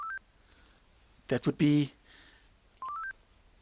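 A software patrol start notification plays as a short rising sequence of electronic beeps, clear and close, which repeats near the end; a brief burst of voice and a tonal chirp sit in between.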